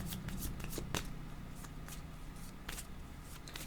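Tarot cards being shuffled close up, a steady run of soft riffling and flicking bursts, fairly quiet and without speech.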